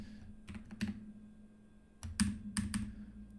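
Close computer keyboard typing: a few sparse clicks, then a quick cluster of crisp keystrokes against a faint steady hum, with no voices.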